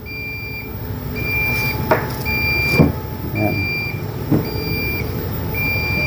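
A Deye LoRa system device gives an alarm of evenly spaced electronic beeps repeating several times in a steady rhythm, with a few handling clicks and a brief spoken word in between.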